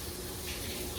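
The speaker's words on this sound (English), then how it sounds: "I'm gonna take really cold water and run it over this" Cold tap water pours steadily over pasta in a red strainer in a kitchen sink, a close, continuous rushing splash with no break and no talk.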